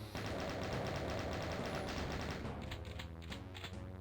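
Rapid, sustained chaingun fire from The Ultimate Doom, a dense stream of gunshots that runs loud for about two and a half seconds before thinning into a few scattered shots and game sounds.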